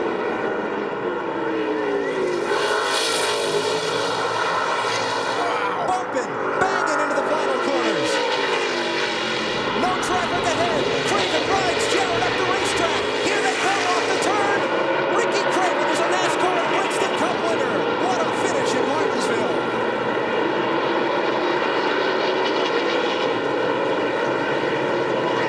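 NASCAR stock cars roaring around Martinsville Speedway in the closing laps of the 2001 Old Dominion 500, a sustained loud engine drone with shifting pitch as cars pass, under continuous race commentary.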